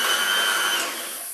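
Electric mixer giving egg white mixture a quick beat, a loud steady whirring hum that runs close and alone for about a second before easing slightly.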